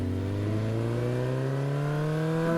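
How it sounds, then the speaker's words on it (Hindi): A steady engine drone climbing slowly in pitch, like a motorbike being pushed hard, continuous and fairly close with no voices. "राहुल बिना सोचे समझे बाइक को दौड़ाता रहता है।"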